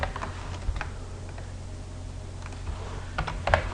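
Someone types a folder name on a computer keyboard while setting up a shared folder on an Ubuntu server through Webmin. A few scattered key clicks come through, fairly soft, over a low steady hum.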